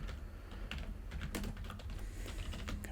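Steady typing on a computer keyboard, with quick clustered key clicks over a soft background hum and no talking.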